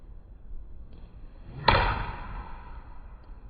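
A golf club strikes the ball during a trajectory practice shot, a single sharp impact crack standing out clearly above faint background noise, followed by a brief fading tail.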